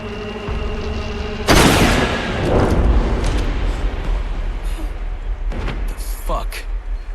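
A single sharp gunshot from a Devil May Cry video game cutscene bursts loudly, followed by a rumbling decay and quieter scattered effects afterward.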